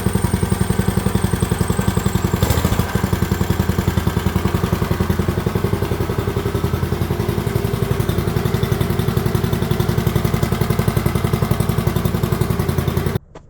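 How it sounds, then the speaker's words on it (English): A Hoverhearts MB001 budget mini bike engine idles steadily and loudly up close, a constant clattering small-engine putter that holds even for several seconds before cutting off abruptly at the end. "This is the Hoverhearts MB001 mini bike that they sent me."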